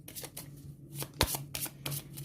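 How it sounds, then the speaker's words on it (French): Battle cards for the board game Border States being shuffled, a continuous papery riffle and slide with a sharp snap near the middle, close and alone. "je vais mélanger les cartes bataille."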